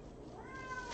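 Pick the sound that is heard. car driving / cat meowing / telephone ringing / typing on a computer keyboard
cat meowing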